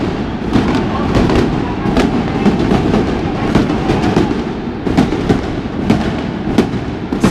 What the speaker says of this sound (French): c'est les coups qui indiquent que le feu d'artifice va commencer dans 1 heure